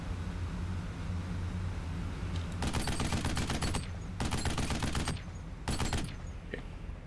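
Repeated bursts of rapid gunfire from the video game Duke Nukem Forever, coming in three loud volleys over a steady low rumble of background noise.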